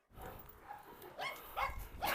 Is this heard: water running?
no